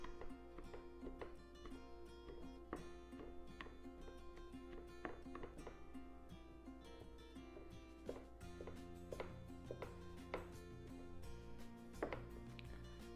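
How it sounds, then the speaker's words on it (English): Repeated sharp taps from a fork poking holes across the bottom and sides of a no-roll pie crust in a home kitchen, an irregular run of light clicks over a steady background hum with music playing. "we're gonna take a fork and poke holes all through the bottom, all on the sides"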